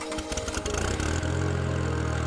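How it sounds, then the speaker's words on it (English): A Ventrac machine mowing down brush to clear a camping site, its engine rising from uneven bursts to a steady loud mid-pitched drone. "And then we let the Ventrac do its work, mowing down some brush to begin preparing our site."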